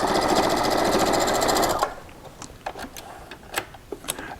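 A sewing machine stitches rows of a chenille quilt with a quarter-inch seam, running in a loud, steady whir for nearly two seconds before stopping, followed by scattered fabric rustles and light handling clicks.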